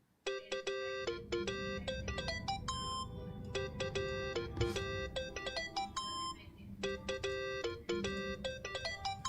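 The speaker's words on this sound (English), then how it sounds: "Think that's your phone, man." Phone ringtone in a Yakuza video game, a bright electronic melody of clipped tones repeating in bursts over a low steady hum, moderately close and continuing for several seconds.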